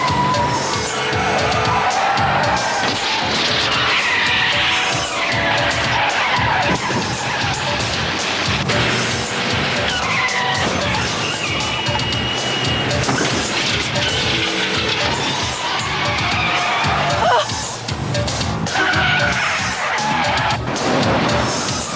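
A car in a high-speed chase roars and accelerates, with tires skidding and squealing over a sustained, loud stretch, and occasional crashing impacts break through the continuous engine and road noise.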